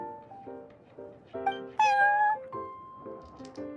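A cat meows in the video game Genshin Impact: several short, tonal mews with rising pitch, close and clear, over a soft musical backdrop, with no talking.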